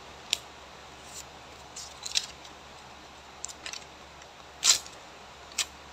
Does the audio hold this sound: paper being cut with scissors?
yes